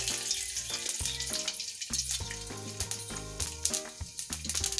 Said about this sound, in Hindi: अब इसमें जो है राई और कड़ी पत्ते का तड़का लगा देंगे।